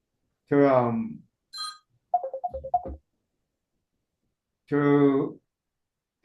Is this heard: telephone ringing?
yes